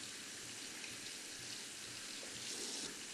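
Running tap water rinsing hands at a sink, a steady soft gush that stays even throughout, faint and unaccompanied by voices.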